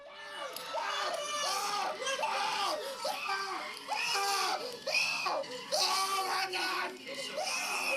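Screaming and excited yelling from a crowd of moviegoers at a Sonic movie screening in a theater, a continuous chaotic burst of shrill voices heard from within the audience.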